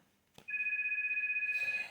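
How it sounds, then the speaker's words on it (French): A telephone rings indoors with a steady electronic double-tone trill lasting over a second, fairly quiet and heard alone after a brief knock. "Téléphone sonne, c'est pas grave."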